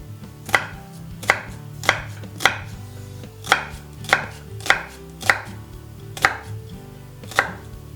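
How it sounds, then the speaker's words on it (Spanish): Knife chopping garlic, onion and ginger on a cutting board, about a dozen distinct, evenly spaced sharp strikes, close and clear, with no talking. "voy a picar los ajos, la cebolla y el jengibre"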